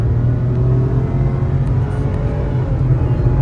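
A Renault Kiger with a 1.0-litre turbo petrol engine and CVT accelerates hard, giving a loud, steady whirring drone from inside the cabin that holds an even pitch throughout, with no speech.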